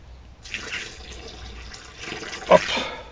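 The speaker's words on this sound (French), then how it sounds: "Je vais chercher mon arrosoir pour pouvoir arroser" Watering can pouring onto garden soil at a newly planted cucumber and gherkin bed, a soft splashing trickle that begins after a short pause, swells briefly and keeps running near the microphone.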